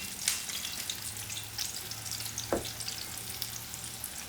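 Orange roughy fillets frying in a pan, a steady soft sizzle with scattered pops and a brief scraping stir partway through, close and even throughout.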